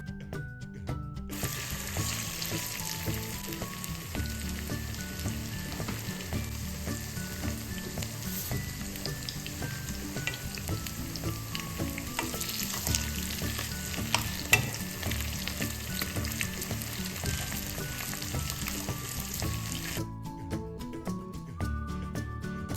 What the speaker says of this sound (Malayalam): എന്നിട്ട് നമ്മൾ മാരിനേറ്റ് ചെയ്തിട്ടുള്ള ചിക്കൻ ഒന്ന് ഫ്രൈ ആക്കി എടുക്കുക